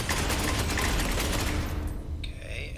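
Sustained, dense automatic gunfire from the Space Hulk Ascension video game pours out loud and continuous for about two seconds, then cuts off into a brief tail of fading echoes.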